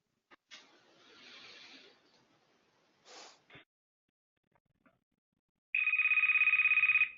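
A phone rings for an incoming call to an operator console, a single short burst of electronic ringing near the end after some faint rustling and quiet breaths.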